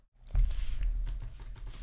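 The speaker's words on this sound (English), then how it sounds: "I'm just basically typing in the value that I pasted in from the star." Fingers tapping out a value on a computer keyboard at a desk, a short run of soft, close keystrokes with quiet clicks under a faint low hum.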